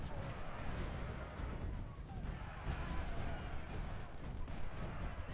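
Long-range artillery booms and rumbles in a Civil War battle at Antietam in the strategy game Ultimate General: Civil War, dense overlapping cannon fire rolling continuously at a steady loud level.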